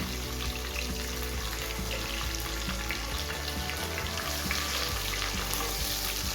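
Chopped almonds fry in a pan while sweet rice is being made, giving a steady, close, crackling sizzle that lasts throughout with faint stirring and no voices.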